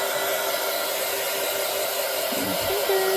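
A blow-dryer-like heat tool drying Mod Podge on a wooden Easter egg gives a steady, loud whirring hiss throughout, with a slight pitch shift near the end.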